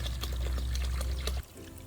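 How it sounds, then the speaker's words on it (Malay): Plain tap water poured into a homemade hydroponic container, a steady close gurgling stream that stops abruptly near the end. "sebelum semai, kita tuang air dulu, lepas tu campur dengan baja AB"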